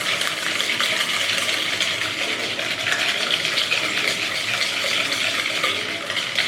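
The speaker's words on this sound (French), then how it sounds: "Tu fouettes." Vanilla sugar being whisked by hand into a mixture, a steady close scraping, swishing rhythm that runs unbroken the whole time with no voices.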